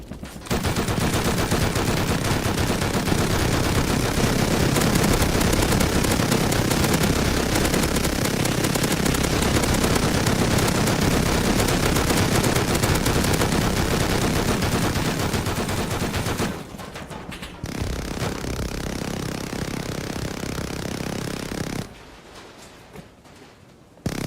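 Sustained, dense rapid-fire minigun bursts roar loudly and continuously in a zombie shooter game, then cut off abruptly into quieter rumbling stretches near the end.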